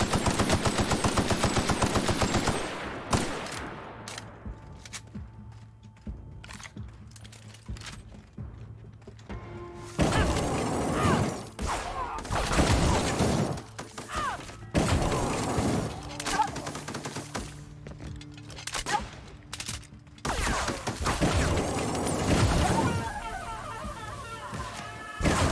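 Rapid bursts of energy weapon fire in the video game The Outer Worlds, loud, dense volleys in several clusters with short pauses between them, and other game sounds filling the quieter gaps.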